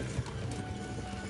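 Hooves of a war horse clip-clop steadily in Kingdom Come: Deliverance, a close, continuous rhythm of footfalls over a dense background of game ambience.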